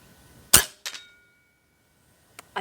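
An airgun fires once at a turkey target during scope sighting, giving a sharp, close crack followed by a quick metallic impact, then near silence with a faint click at the end.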